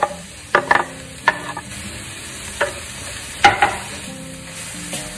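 Cabbage stir-fried for chicken lo mein, a steady sizzle in the pan broken by several sharp scrapes and clacks of a utensil stirring at irregular intervals.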